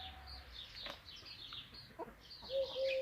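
Hens in a backyard henhouse cluck softly and intermittently at moderate distance, with a few short higher calls, no talking over them.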